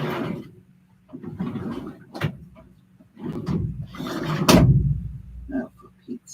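Several drawers sliding open and shut in a series of rubbing, scraping strokes with sharp knocks, close by, with a voice talking in between.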